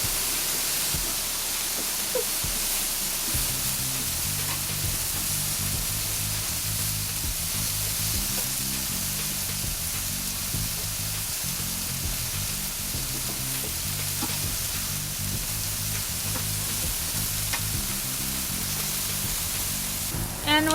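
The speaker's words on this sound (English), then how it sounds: "So we're gonna just place the potato onto the grill, just like that, on medium-high heat" Sweet potato pieces sizzle steadily on a grill over medium-high heat, a continuous loud hiss and crackle of frying that runs alone with faint low clatter throughout.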